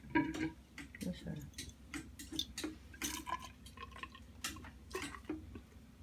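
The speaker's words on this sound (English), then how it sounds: "So I'm just going to try to siphon off some beer here." Home-brewed beer siphoned into a bottle during priming and bottling, giving scattered drips and ticking liquid sounds with soft irregular trickling, close and fairly quiet, a low steady hum beneath.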